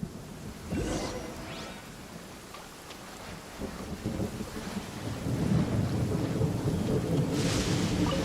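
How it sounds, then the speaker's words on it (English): Rain falling steadily in a Genshin Impact storm, with a couple of rumbling thunder rolls early on and the downpour thickening and growing louder toward the end, no voices over it. "Thunder and lightning can be quite frightening"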